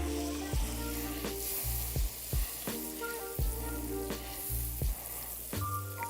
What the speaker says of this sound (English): First thing I'm going to do is melt my butter